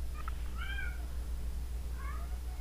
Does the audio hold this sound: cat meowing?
yes